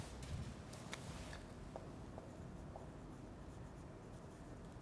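Chalk or a marker scratches and taps across a board during a lecture in a quiet room, faint and steady, with a few short strokes and no one talking.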